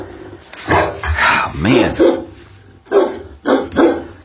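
A watchdog barks in loud, close bursts, a few sharp barks and a whining yelp mixed among people talking over it.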